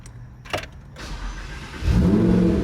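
A Lamborghini parked outside a house on a quiet street, heard first through faint mechanical clicks and a brief whir, then an engine that swells into a loud, steady low rumble for the final second, with no talking.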